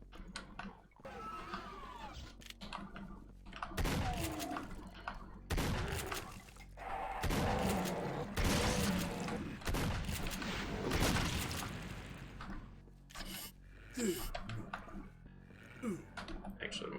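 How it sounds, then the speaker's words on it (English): Heavy shotgun blasts from a triple-barrel super shotgun in the video game Doom, dual-wielded, booming in dense loud bursts with explosions and game effects mixed in, while people talk over the action. "Also, it's a triple-barrel super shotgun."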